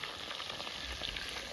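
Chicken pieces fry in a pan, a dense, even sizzle with crackling pops throughout, close and continuous.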